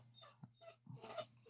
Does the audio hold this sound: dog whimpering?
yes